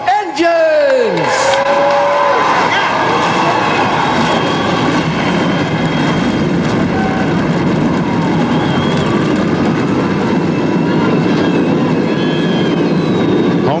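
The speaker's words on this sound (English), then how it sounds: "Drivers, start your engines!" NASCAR Busch Series stock cars at Homestead fire up their engines together at night, a loud, dense, sustained roar that holds steady throughout, with a brief descending whine near the start and crowd noise beneath.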